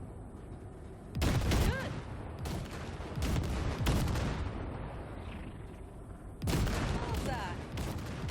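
Heavy gunfire blasting wrecks in the video game Cyberpunk 2077, coming in loud, booming bursts with rumbling tails and a short pause between volleys, while someone speaks briefly.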